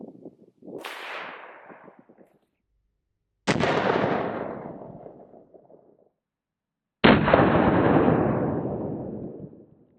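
Three separate, loud gunshots from a Smith & Wesson Governor revolver firing Federal 410 handgun rounds into ballistic gel outdoors, each a sharp crack followed by a long fading echo, spaced a few seconds apart.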